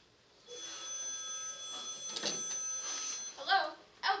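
A telephone in a radio drama rings with a steady electric bell tone, sounding in repeated bursts with short gaps, fairly faint and heard alone in a quiet room.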